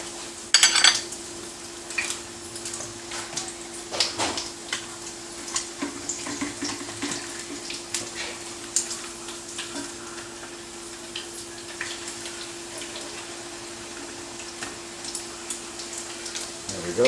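Bacon frying in a pan for a breakfast sandwich, a steady soft sizzle with scattered clinks of utensils and light kitchen clatter, an occasional voice in the background.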